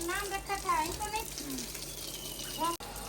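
Cold water splashes and runs over a child in a village setting, with a steady gush beneath excited voices, a child among them, and a sudden cutoff near the end.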